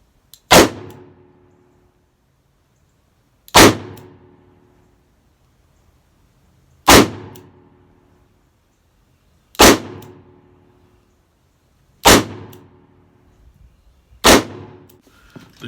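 A 2020 Colt Python revolver firing .38 Special +P Blazer 158 grain rounds, six sharp loud shots spaced about three seconds apart, each ringing briefly before silence, the last two closer together.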